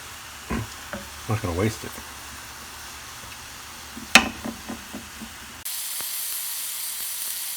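Cured pastrami frying in a pan with soft sizzling and a few scraping stirs, a sharp clatter midway, then a steady louder hiss; someone speaks briefly over it.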